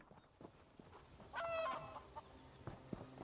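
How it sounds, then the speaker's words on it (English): A chicken in the video game Elder Scrolls Online gives a short, loud clucking squawk, with softer game sounds and light thuds before and after. "I got distracted by a chicken"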